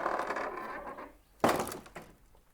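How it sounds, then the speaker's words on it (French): A convent door opens: a sudden wooden thunk and creaking clatter after a dull rumbling lead-in, then a fainter knock as it settles. "La porte s'ouvrit aussitôt"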